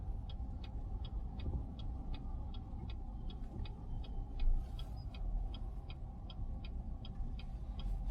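A Peugeot 5008 Hybrid creeps through a traffic jam: a steady low engine and road rumble with a regular ticking indicator clicking evenly throughout, heard from inside the cabin.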